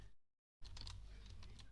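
Rapid, continuous mouse clicking during a game of Minecraft, a dense run of sharp close clicks after a brief silence.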